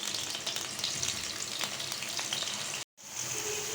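Potatoes fry in about two tablespoons of oil in a pan, giving a dense, steady crackling sizzle close by that cuts out abruptly for a moment near the end, then resumes.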